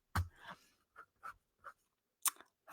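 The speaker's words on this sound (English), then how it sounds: "I need to write that" A pen scratching a quick handwritten note, short separate strokes and taps, close and quiet with pauses between them and no talk.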